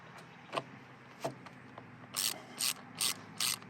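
Drain plug with an O-ring being snugged back into a Bobcat E42 R2 Series mini excavator, heard as four quick, close ratchet bursts after a few faint clicks.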